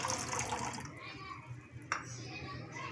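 Soy sauce pours in a steady liquid stream onto chicken for a teriyaki marinade, close and fairly loud, with a voice talking over it.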